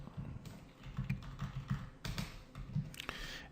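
Someone types code on a computer keyboard, an irregular run of quiet, close key clicks with brief pauses and a few sharper taps, and no one talks.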